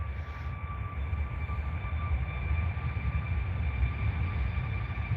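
A Jet2 Boeing 737 takes off, a steady, loud roar of jet engines with a constant whine running throughout, broad rumble underneath and no voices.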